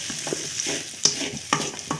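A spatula stirs aval upma (flattened rice) in a sizzling pan, giving a few quick scraping strokes over a soft, constant frying hiss, close and clear with no talking.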